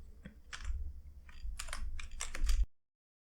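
Code being typed on a computer keyboard: a quick irregular run of crisp key clicks over low room hum, moderately close, ending abruptly into silence.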